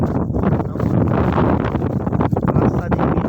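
Loud, continuous wind gusts buffet the microphone on the slopes of Mount Kerinci, a rough, roaring rush with no pauses.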